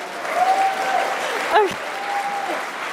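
An audience claps for a speaker in steady, dense applause lasting the whole stretch, with a brief spoken word over it midway.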